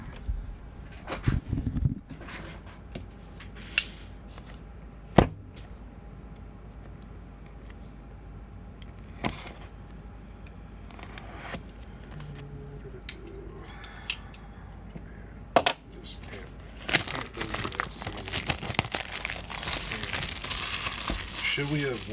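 Baseball card hobby box being opened and unwrapped, with scattered crinkles, taps and handling clicks growing into sustained crumpling wrapper noise near the end, close and moderately loud.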